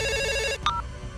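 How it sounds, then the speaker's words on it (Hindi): A telephone rings with a bright, buzzy electronic tone that cuts off abruptly, followed by a short higher beep, set against low background murmur. "प्रताप को फ़ोन आ रहा है यार"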